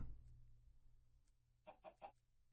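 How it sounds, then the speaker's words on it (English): Chicken in the video game Minecraft, a quick burst of three soft clucks near the end after a low background hum. "There's a chicken."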